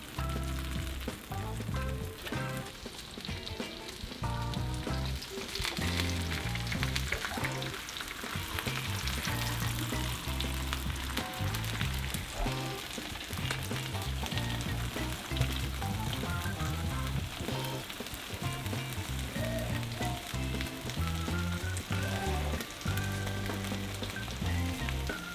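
Venison birria tacos frying on a griddle, a loud, continuous crackling sizzle close by that keeps going evenly with no talk, while a layer of music-like tonal sound plays underneath.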